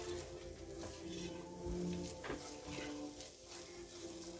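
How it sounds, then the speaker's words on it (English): Garlic and onions sautéing for soup, a soft, steady sizzle with occasional stirring scrapes and a light clink of utensil against pan, quiet and close. "I'm just going to lightly saute this until it gets like a golden color, translucent in the onions. I'm going to keep stirring not to burn my garlic."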